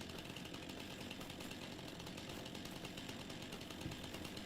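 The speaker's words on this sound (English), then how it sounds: "running around the woods with a chainsaw, running like a madman, looking for trees" A chainsaw in Farming Simulator 25 runs steadily and loudly in the woods, a continuous harsh engine buzz with slight fluctuations throughout and no pauses.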